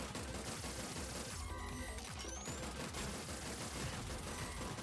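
Rapid bursts of gunfire ring out in the PC video game Terminator 2D: No Fate, quiet and repeated shots stacked in a dense rattling barrage with no talk over them.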